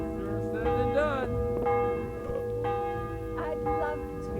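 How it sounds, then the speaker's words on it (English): Church bell rung in the medieval game Kingdom Come Deliverance, several resonant tolls with long ringing overtones, close and loud, decaying between strikes over a steady background murmur. "Ring on the bell."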